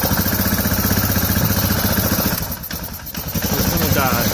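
An Arctic Cat 500 ATV engine with a dirty carburetor idles roughly and loudly close by, a rhythmic thumping that sags and stumbles for a moment midway before recovering.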